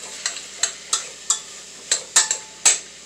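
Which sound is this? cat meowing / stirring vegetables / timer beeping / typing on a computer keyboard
stirring vegetables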